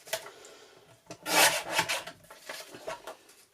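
Scissors or a trimmer cut and rasp through a printed digital-kit sticker sheet for a planner, a close, scratchy run of uneven snips and rubbing that swells briefly in the middle.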